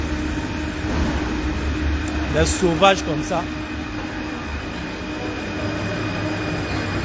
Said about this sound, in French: Le métro est venu.